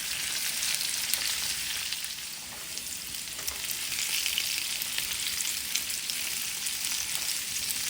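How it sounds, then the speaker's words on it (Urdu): Potatoes fry in hot oil, a steady dense sizzle and crackle, close and continuous throughout without any talking. "اب اس میں ہم یہ سارے آلوؤں کو ملا دیں گے، اور اسے بھی ہم تھوڑا فرائی کریں گے"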